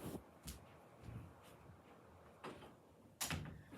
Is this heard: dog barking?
no